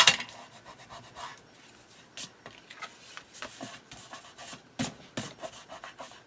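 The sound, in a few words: burnishing paper by rubbing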